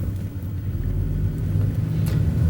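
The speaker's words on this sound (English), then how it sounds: "Car approaching from the left again." An approaching car rumbles steadily on a street near a stop sign, its low engine and road noise holding close and fairly loud throughout with no talk.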